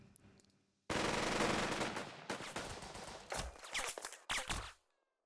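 Squad rifle fire in the tactical game Burden of Command: a dense, loud volley of overlapping shots breaks out after a quiet lead-in, then scattered bursts and single cracks follow before fading out.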